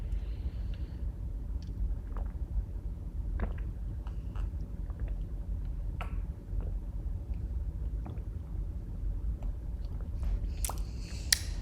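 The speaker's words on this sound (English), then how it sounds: "I did some ASMR for people. I drank some True Moon chocolate milk." True Moon chocolate milk drunk up close as ASMR, with soft wet sips, swallows and small mouth clicks spread over a quiet low rumble.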